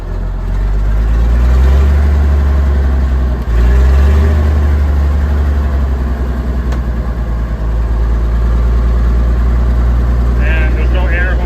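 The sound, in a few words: old white Constructor cement truck engine running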